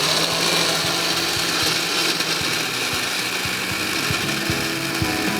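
A kitchen mixer grinder pulverises onion, tomato, green chilli, garlic and ginger for a chicken marinade, a steady loud whirring grind running continuously with small rattling knocks throughout.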